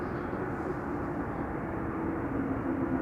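An airliner taxiing to its parking spot beside the Kaagbaan runway at Amsterdam Schiphol, heard as a steady, continuous jet-engine rumble and whine from a distance, unchanging throughout with no voices.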